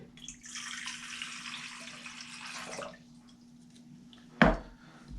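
Water runs and splashes steadily into a warmed bowl for about three seconds, then fades to quiet before a single short knock near the end.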